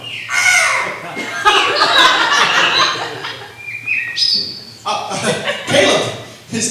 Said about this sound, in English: The birds are chirping.